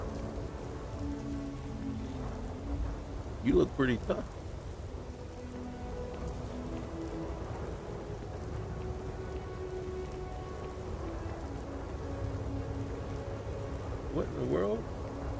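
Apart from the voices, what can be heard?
storm with rain and thunder in video game Starfield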